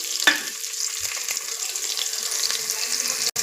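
Four medium onions, with spices, sizzle steadily in a pan, a constant close frying hiss with a sharp clink near the start, a few soft knocks and a brief cut-out near the end.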